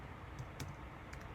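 Rapid keystrokes clatter on a computer keyboard while someone types text in a terminal editor, a close, steady run of light clicks with a few sharper taps and no voices.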